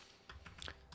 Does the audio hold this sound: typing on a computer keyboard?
yes